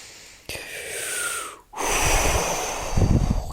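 Slow, deep breaths drawn close to the ear, a long airy inhale, a brief pause, then a heavier breath ending in soft, wheezy exhales.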